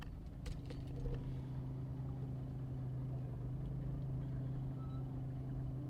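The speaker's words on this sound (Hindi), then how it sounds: "यहाँ पे थोड़ा सा ट्रैफिक लग गया है" Road traffic on the way to Athirapalli Falls in Kerala: a steady low engine rumble from a nearby vehicle, constant and moderately loud, with no talking.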